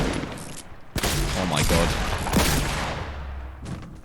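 In a Fortnite match, loud rapid bursts of gunfire erupt in several volleys amid building and explosion-like booms, with a player exclaiming briefly over the shots.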